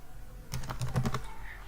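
Quick keystrokes on a computer keyboard while text is typed into a thumbnail design, a short run of several soft, rapid clicks heard alone at low volume.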